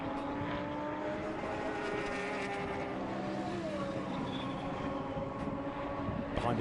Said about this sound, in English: This glorious looking, symphonic sounding Lamborghini back into the race